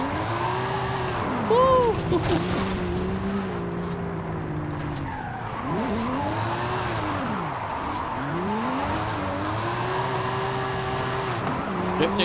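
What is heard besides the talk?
car tires squealing while drifting in Forza Horizon 5 video game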